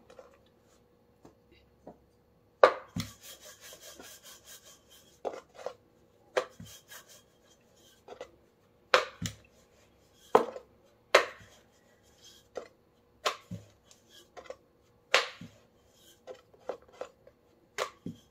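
Wheat flour lachha paratha dough being rolled out with a rolling pin: soft scattered knocks and taps of the pin on the board, with quiet rubbing between them, close and intermittent, with no talking.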